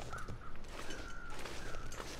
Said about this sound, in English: those crows, I think there's a dead body over there